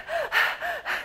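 A person takes quick, forced breaths in an upper-chest, shoulder-lifting breathing pattern: two sharp gasping inhales, each followed by a rushing breath, close and clear with no talking.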